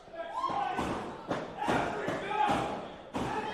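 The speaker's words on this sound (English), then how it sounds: "Chris, the chef in production, banging on those boards" Repeated heavy thuds of someone banging on wrestling ring boards at an amateur wrestling show, several irregular hits under ongoing commentary talk.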